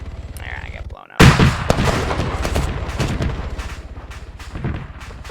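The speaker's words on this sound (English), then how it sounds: "There, I get blown up." A sudden loud blast in the video game Facility Epsilon, a sharp explosion breaking a quieter moment and followed by crackling gunfire and rumbling debris that fade over several seconds.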